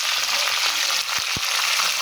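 Fish fries in a pan with a continuous bright sizzle, close and steady, broken by a couple of soft low knocks near the middle.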